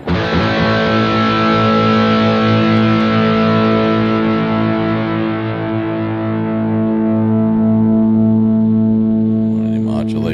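Electric guitar through a Boss Gigcaster 5 with a delay effect, sustained distorted chords ringing loud and continuous for about ten seconds, dense harmonics with repeats trailing under the notes.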